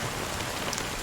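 Rain falls steadily in the video game Honkai Star Rail, a dense, even hiss of drops on surfaces with no pauses, moderately loud throughout.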